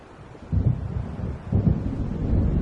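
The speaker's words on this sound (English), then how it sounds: "It seems there's a storm coming." Thunder from an approaching storm in the video game Alan Wake, a deep rolling rumble that swells twice and keeps grumbling low and heavy, with no voices.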